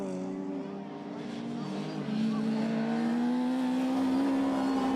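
Rallycross cars in a Supernational and S1600 race, one gaining a place at a hairpin, roar steadily with a rising engine note, loud and continuous throughout, under a commentator's voice.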